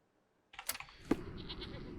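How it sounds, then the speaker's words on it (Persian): A sheep bleats in a Sherlock Holmes video game, a short animal call that cuts in suddenly from silence, followed by a sharp click and a soft, steady ambient hiss. "گوسفند"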